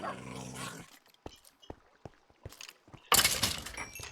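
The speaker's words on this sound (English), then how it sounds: "I think both of my dogs are okay." A pet dog makes a short rough sound at the start, followed by scattered thumps and clicks, then a louder burst of shuffling or rattling noise near the end, close by, with no talking.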